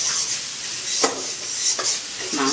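Onions for chicken kosha sizzle steadily in a hot pan, with a few sharp scrapes of a stirring utensil breaking through the frying hiss, close and without speech.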